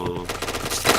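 Rapid automatic gunfire in the shooter game PointBlank, a loud burst of closely spaced shots heard up close.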